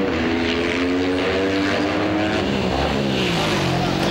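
Racing motorcycles, including a Yamaha, an Aprilia and a KTM, scream down a hotel straight in a street race, a loud, steady high-revving engine whine from several bikes together.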